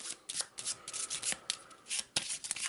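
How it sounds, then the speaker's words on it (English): Cards from an Eldritch Horror board game deck are shuffled by hand in a short series of soft, papery riffles and rubs, with quick bursts separated by brief pauses, close and fairly quiet. "Let's give it a quick shuffle."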